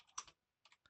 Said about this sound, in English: I'm just typing it